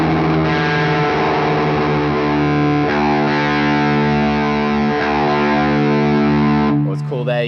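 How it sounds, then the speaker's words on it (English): Electric guitar with the open D string and low E string sounded together as the E is tuned down toward D, sustained notes beating slightly and settling, loud and close, ending with a brief pick noise. "You could play the open D string and the low E string, tune it down until they both sound the same"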